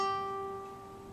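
A single note rings on the first string of a guitar fretted at the third fret, plucked once and left to sustain as a clear, steady tone that fades slowly, alone.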